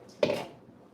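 A spoon knocking and scraping inside a pot of turkey mixed vegetable soup during stirring, one brief close metallic clink that fades within a second.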